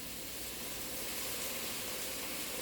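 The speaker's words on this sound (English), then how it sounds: "just add a little bit of water to kind of make it steam" Steam hissing from water splashed into a hot pan where chicken is cooking, a steady broadband sizzle that holds evenly throughout, fairly loud and close, with no voices.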